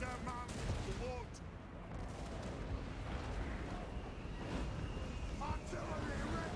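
A Dwarf organ gun fires in a Total War battle, a rumbling barrage of volleys and booms rolling beneath continuous battlefield din, with voices shouting over the fighting.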